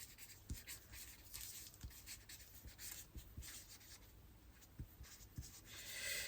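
Pen on paper jotting sewing notes, quiet close scratchy strokes with light taps spaced irregularly, alone without voices.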